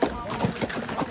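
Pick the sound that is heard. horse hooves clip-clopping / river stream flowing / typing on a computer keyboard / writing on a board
horse hooves clip-clopping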